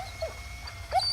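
A dog gives a couple of short, faint yips or whimpering barks, one early and a pair close together near the end, over a low background hum.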